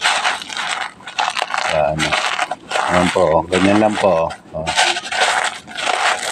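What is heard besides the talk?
crushing dried eggshells by hand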